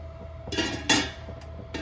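A lid set onto a cooking pot of steaming oil-free corn chatpata, giving a couple of soft metallic clinks with a sharper clatter in the middle, close by, over faint kitchen hum.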